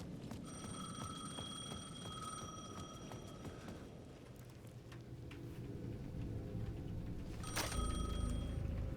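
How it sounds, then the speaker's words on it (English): A steady electronic payphone ring repeats over a low background hum, fairly faint, followed by a sharp click and rising rumble near the end, in the video game Alan Wake 2. "The payphone at the edge of the plaza was ringing again."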